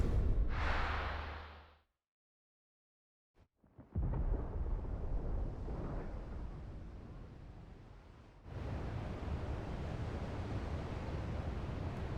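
Thunder rumbles in the video game Final Fantasy 16, a long, broad, rolling roar that starts after a brief silence and then continues steadily at a moderate level, with no speech.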